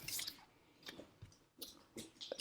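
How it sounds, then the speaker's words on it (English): Emmy, a pet, chewing on something: soft, wet, squishy mouth sounds in several short bursts close by, with quiet gaps between them and no talking. "she's chewing on something."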